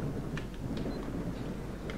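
Thunder from lightning rolls through a S.T.A.L.K.E.R. game scene, a steady low rumbling storm under constant rain-like hiss, with a few faint crackles scattered across it.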